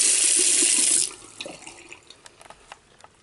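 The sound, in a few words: hotel bathroom sink tap running water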